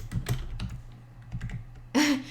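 Laptop keys tap in a quick, uneven burst of clicks, close and fairly crisp, followed by a brief louder tonal sound near the end.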